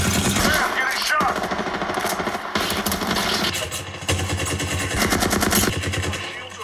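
Rapid automatic gunfire from a video game in a shield-recharging shooter, loud and continuous bursts of clattering shots layered with combat noise and occasional voices over the top.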